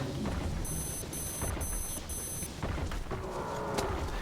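Air filter timer in the game Metro Last Light beeping in four short, evenly spaced electronic pulses over steady game background noise, followed by a faint tonal hum.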